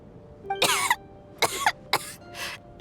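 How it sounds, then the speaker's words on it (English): A video game character in Genshin Impact coughs four times in separate rough bursts, close and fairly loud over a faint steady background tone, with no talking. "How long have you had that cough, Tonya?"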